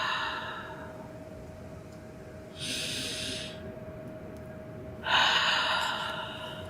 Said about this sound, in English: You exhale through your mouth.